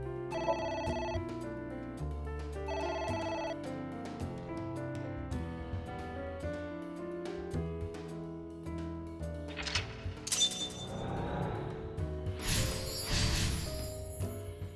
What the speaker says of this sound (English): Ignored the phone again?